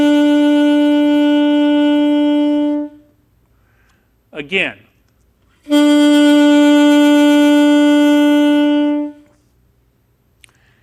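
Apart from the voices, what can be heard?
alto saxophone playing a B note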